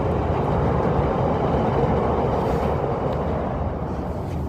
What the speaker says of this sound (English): Hey, there, one train goes one way, one goes the other.